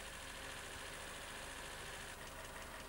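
A 1985 Austin Rover engine with an HIF44 carburettor idles with its coolant thermistor disconnected, giving a steady, close, continuous running drone with a faint rough pulse and no talk.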